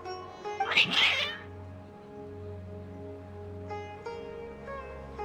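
Agitated cats in the Genshin Impact video game let out a short, loud caterwauling burst of meows near the start, then fall quiet beneath steady, sustained game music.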